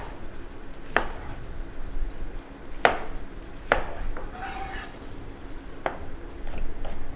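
Spring onions chopped with a knife on a board during a herb cooking demonstration, several separate sharp chops spaced irregularly over steady low background noise, close by.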